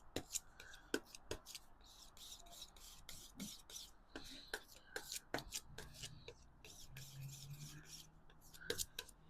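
A brush mixes alizarin crimson and sap green oil paint into brown, making soft, quiet dabbing and scrubbing strokes in an irregular rhythm, very close and faint.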